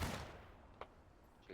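A gunshot from the game Grand Campaign opens with a sharp boom that decays quickly, followed by a couple of fainter distant shots.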